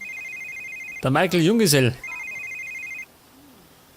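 A telephone in The Sims 3 rings in repeated electronic trills, interrupted by a burst of warbling Simlish voice, then rings again before falling quiet.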